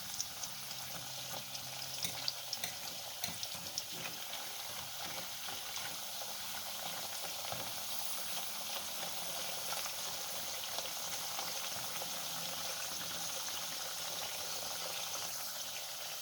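Dasheen fries in oil on a turned-down stove, giving a continuous close sizzle and bubbling hiss that holds steady throughout with no talking.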